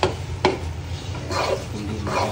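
Biko, sweet sticky rice, being stirred in a pan, with a few sharp scrapes and knocks of the spoon against the pan over a soft, steady cooking sizzle.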